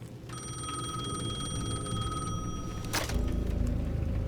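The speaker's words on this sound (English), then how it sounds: "The payphone at the edge of the plaza was ringing again." A payphone rings at the edge of a plaza in the video game Alan Wake 2, a steady electronic ringing tone held for several seconds over a low ambient rumble, then cut off by a sharp click.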